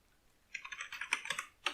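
A keyword is typed on a computer keyboard as a quick, close run of light key clicks lasting about a second, following a brief silence.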